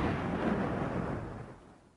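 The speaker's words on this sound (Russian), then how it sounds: "Через секунду в 10 метрах происходит мощный взрыв." A deep, powerful explosion in Kyiv, about 10 meters away, rumbles broadly and loudly, then slowly fades away over about two seconds.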